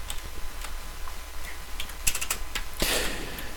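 Computer keyboard keys clatter in quick irregular bursts while code is typed into a Linux KDevelop editor, close and fairly crisp, with a denser flurry of strokes near the end; no voices.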